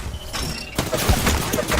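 Gunfire in a fast online shooter, Valorant, Overwatch or Sea of Thieves, with sharp shots and a dense burst of clatter over a busy, loud game mix that runs without a pause.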